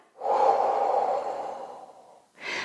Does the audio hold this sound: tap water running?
no